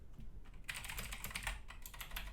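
Fast, steady typing on a large mechanical keyboard, a dense clatter of close key strikes that starts after a brief quiet moment and continues alone without any voices.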